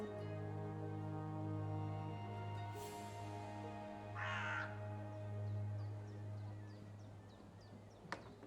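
A talking bird caws in the video game Dreamfall Chapters, giving one harsh, rasping crow-like call partway through over a soft, droning ambient music bed, with faint chirps later.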